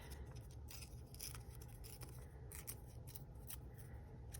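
Scissors snip through paper for a sea-themed journal collage: a quiet, close series of crisp cuts in an uneven rhythm, heard on their own.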